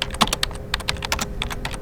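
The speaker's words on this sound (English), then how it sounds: "The keyboard clicked loudly as they typed your information in." Loud, rapid clicking of a computer keyboard as a receptionist types at a clinic front counter, a quick irregular run of sharp keystrokes close up with no voices.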